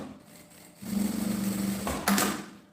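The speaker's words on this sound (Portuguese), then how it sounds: "passo uma costura aqui na beiradinha pra segurar" A sewing machine stitching a seam along the fabric edge of a small phone pouch, running as a steady mechanical whir for a couple of seconds with a brief louder burst near the end.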